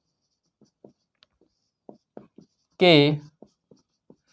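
Chalk or a marker on a classroom board during a physics lesson, giving a string of short, scratchy strokes and taps spaced out in quiet, with a brief spoken word in the middle.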